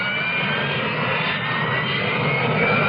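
A Harrier jet aircraft's engine roars in a steady, loud, broadband rush that holds constant throughout, with no voices.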